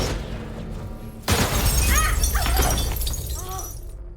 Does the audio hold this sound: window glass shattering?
yes